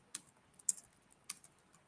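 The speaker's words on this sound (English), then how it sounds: "let me finish typing my notes" Quiet, close keystrokes on a computer keyboard come in short bursts: a handful of distinct taps spaced irregularly over a near-silent background as notes are typed.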